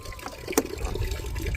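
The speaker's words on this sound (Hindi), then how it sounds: "चलो भाई, स्कूटी वगैरह धोते हैं, थोड़ा नहलाया जाए स्कूटी को।" Water splashes and trickles steadily as it is poured over a scooter to wash it, close up, with one sharper splash partway through.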